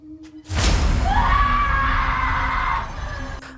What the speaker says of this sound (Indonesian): Alana berteriak ketakutan begitu melihat bayangan menggelantung